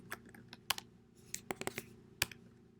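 Code being typed on a computer keyboard: close, quiet, irregular key clicks in quick clusters with short pauses, plus a faint steady hum underneath.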